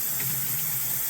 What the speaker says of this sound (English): come over here to the hot water, rinse it off real good